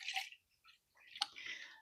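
Water poured into the reservoir of a Chilipad Dock Pro sleep-cooling unit during setup, with short, faint splashing bursts separated by brief pauses, heard up close and without voices.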